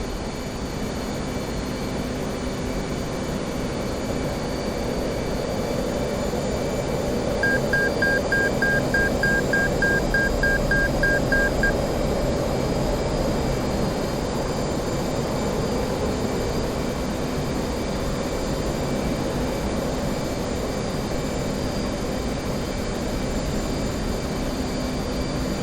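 An F/A-18 Hornet sits on the runway in the DCS World flight simulator at night, its jet engines giving a loud, steady, broadband whine and roar that holds throughout with no speech.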